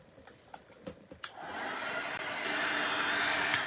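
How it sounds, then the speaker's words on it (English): After a few light taps and clicks, a heat tool switches on to dry paint on a paintbrush. It settles into a steady, close, whooshing blow that holds to the end. "let us give that a quick dry with the heat tool quickly"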